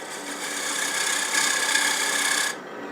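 A spear point tool cuts a V groove in wood spinning on a lathe, giving a steady close scraping rasp for about two and a half seconds before it cuts off.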